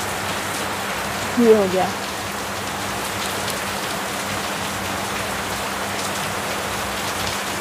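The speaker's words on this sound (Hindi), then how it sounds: "बारिश बहुत तेज़ हो रही है" Heavy rain pours down in a steady, dense hiss that fills the whole stretch, with a short spoken phrase near the start riding over the downpour.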